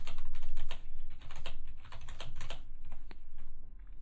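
Someone types steadily on a computer keyboard, rapid close clicks in an even run under a constant low electrical hum, with no talk.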